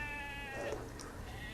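A single sheep gives a faint, short bleat partway through, with quiet background noise throughout.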